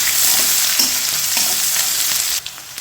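Chopped onion and green chillies fry in a hot pan, giving a loud, continuous sizzle with a few soft stirring scrapes before it briefly quiets near the end.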